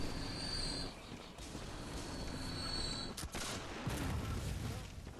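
Heavy gunfire and blasts from a mortar and weapons in the video game Bloodborne, a dense, loud barrage with a sharp crack near the middle and steady rumbling din throughout.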